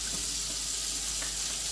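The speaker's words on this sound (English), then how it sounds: "I'm gonna wash my hands" Tap water running steadily into a sink while hands are washed, a close, constant bright rush with no pauses or voices.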